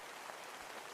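Steady synthetic rainfall from a study ambient sound app, a dense even hiss of falling drops with no pauses, quiet and continuous throughout, with no talking.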